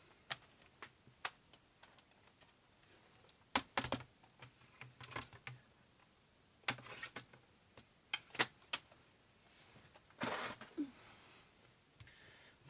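A bone folder presses creases along cardboard folds, giving a scattering of sharp dry taps and scrapes at irregular intervals, close by and fairly quiet.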